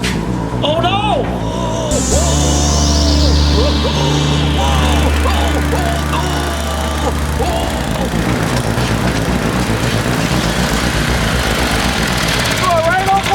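Snowblower engine running in a shop, a loud, steady motor drone with pitch shifts, under and between bursts of talk from nearby voices.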